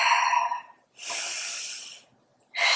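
A long, forceful exhale through the nose and mouth during a Pilates ab exercise, a close breathy hiss lasting about a second, with sharper snort-like breaths before and after.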